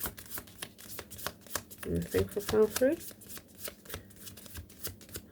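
A deck of cards being shuffled repeatedly in quick riffling bursts, close up, while someone speaks over it.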